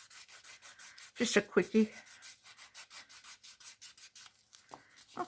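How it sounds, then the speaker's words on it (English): Rhythmic rasping strokes of a file worked around the edge of a bunny-shaped craft coaster, steady and close, with a short spoken remark partway through. "I'm going to file it over here where you can't see it"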